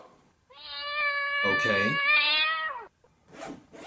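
A cat lets out one long, drawn-out meow with a wavering pitch, close and clear, followed by a brief spoken word from a person.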